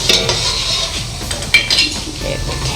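Garlic and ginger being stirred into softened frying onions in a pan for lentil rice pilaf, a close, steady sizzle with spoon scraping and clinking against the pot.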